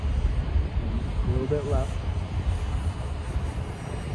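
An E-flite Habu STS RC plane flies as a steady, continuous engine drone with a broad whine throughout, while a voice gives brief instructions over it.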